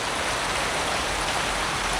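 Steady rain falls outdoors, a dense, even hiss of drops hitting surfaces that stays loud and unbroken throughout, with no voices.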